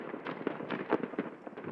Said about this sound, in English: you think the USA loves setting off their fireworks?